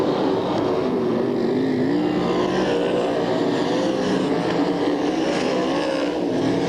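SCRA sprint cars race at Bakersfield, California, in 1995, their engines a loud, continuous wavering roar as several cars run together through the turns, with no voices over them.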